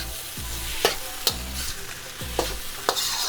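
Fried rice with soy sauce sizzles in a hot pan while a spatula stirs and scrapes through it, giving a few sharp clacks over a steady frying hiss, close up and without voices.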